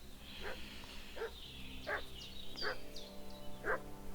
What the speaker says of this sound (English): What's that dog making such a fuss Uh-oh. about?